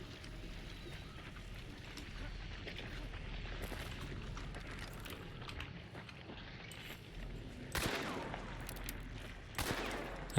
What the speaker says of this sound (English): I'm just shooting through the wall